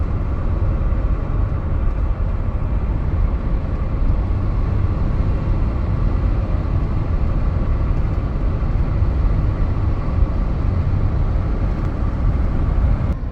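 Steady low rumble of road and engine noise from inside a moving car on a highway in southern Utah, continuous and even throughout, with no talking.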